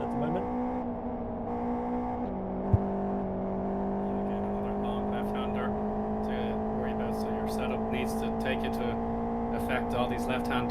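Race cars in Live for Speed drone steadily through a four-car battle on an oval, a sustained engine whine holding pitch over a constant background, with a commentator talking throughout.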